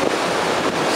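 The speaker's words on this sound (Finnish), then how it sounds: "siellä on aika jytkyn kokoisia aaltoja, jotka tulee tähän rantaan" Large ocean waves break on the sandy Monte Gordo beach in a steady, close, broadband roar of surf, mixed with wind buffeting the microphone.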